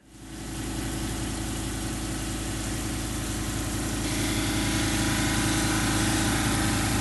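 A lapidary polishing wheel runs steadily while polishing a Lake Superior agate, making a continuous loud motor hum and grinding whir that holds constant throughout with no talk.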